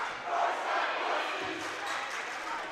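A large crowd at a crosstown high school volleyball match in a gym roars and murmurs continuously, loud and diffuse, without a distinct peak.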